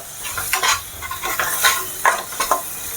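Chopped tomatoes sizzle and fry in a pan with repeated stirring strokes, a steady crackle under rhythmic scraping, close and fairly loud with no talking.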